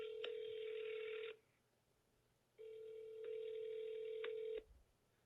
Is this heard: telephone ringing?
yes